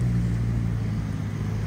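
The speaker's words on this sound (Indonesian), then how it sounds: "ini ada bus Karunia Bakti tujuan ke Garut lewat Cileunyi Tol Cipularang" Karunia Bakti bus idling at Klari terminal, a close, steady low diesel drone with a constant hum and no speech over it.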